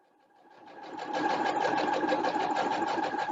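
A sewing machine stitches a seam on a handmade doll, starting up and quickly settling into a steady, rapid mechanical rhythm, close and alone.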